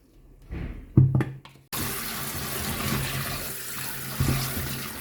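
Coconut pieces for Jamaican coconut dumplings are washed under running water: a few soft knocks and splashes, then a tap gushes in a loud steady stream that continues to the end.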